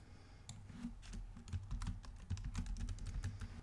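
Steady typing on a computer keyboard, a dense run of quick key clicks close to the mic, with no voices.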